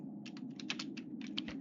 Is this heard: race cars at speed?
no